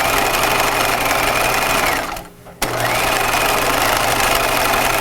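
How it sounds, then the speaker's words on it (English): A domestic sewing machine stitches a cap sleeve opening on pajamas, running in a fast steady whir close up, pausing briefly for about half a second and then resuming at the same pace. "So now I'm sewing up the other side of the sleeve opening."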